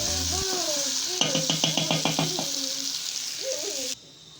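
Soup simmering in a pan of potatoes for a stew, a continuous sizzling hiss under someone talking, with some sing-song vocal sounds before it cuts off near the end.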